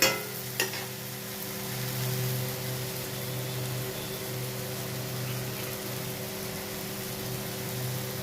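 Banana curry with yogurt frying in oil in a kadai, sizzling steadily with a continuous crackling hiss, one brief sharp clink near the start, and a low hum running underneath.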